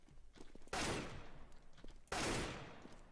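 Two loud gunfire bursts from Counter-Strike: Global Offensive, each a sharp crack trailing into a decaying rattle, about a second and a half apart.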